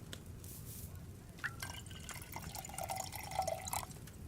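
Liquid trickles and drips softly from a vial during alchemy brewing in Kingdom Come: Deliverance II, faint small splashes and a few bright plinks over a quiet low background.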